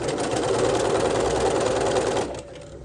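A sewing machine stitches elastic onto underwear, a fast continuous close mechanical whir and rattle that stops abruptly near the end, leaving a quiet hum.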